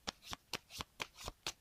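Cards of a Star Wars board game deck being riffle-shuffled, about seven quick, crisp bursts in a steady rhythm, close and fairly quiet with no talking.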